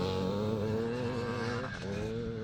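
Classic four-stroke racing motorcycles built around the old BSA B50 engine roar at a Strathaven circuit, a loud sustained engine drone with a slight pitch dip midway and no talk over it.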